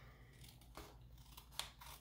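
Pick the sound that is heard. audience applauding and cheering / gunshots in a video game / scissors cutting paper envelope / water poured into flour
scissors cutting paper envelope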